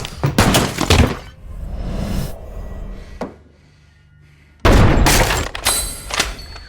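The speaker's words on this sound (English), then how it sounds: "Suddenly, sniper fire comes through the window." Sniper rounds smash through a window: loud gunshots and shattering glass in bursts, a brief dull thud, near silence, then another violent crash of breaking glass and shots.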